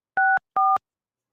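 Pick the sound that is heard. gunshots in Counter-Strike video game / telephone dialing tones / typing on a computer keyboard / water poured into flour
telephone dialing tones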